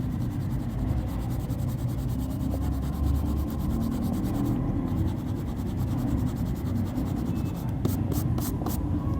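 Continuous scratchy marker or chalk strokes writing words on a board in a classroom lesson, steady rhythmic scraping with a few short taps near the end, no talking.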